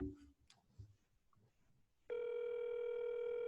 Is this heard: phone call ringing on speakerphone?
yes